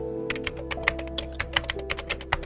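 Rapid keystrokes on a computer keyboard, a quick run of crisp clicks and taps at an uneven rhythm, close and clear over a steady low hum.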